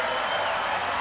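Indoor pool crowd at a swimming trials finals session in Toronto applauding and cheering during the women's 400-meter freestyle final, a steady dense wash of clapping and crowd noise that never lets up.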